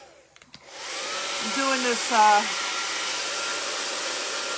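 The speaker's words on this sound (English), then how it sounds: "This is a loud dryer." A loud hair dryer runs close by in a steady, unbroken roar while drying paint on a canvas, and a person talks briefly over it.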